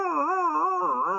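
A pet dog indoors in its own room lets out a sustained, wavering howl with rising and falling pitch, loud and fairly close, continuing unbroken without any talk.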